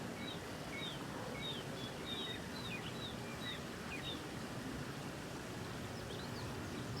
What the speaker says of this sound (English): That's a crazy detailed waterfall.